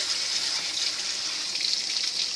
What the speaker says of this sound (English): We got a cup and a half of water here.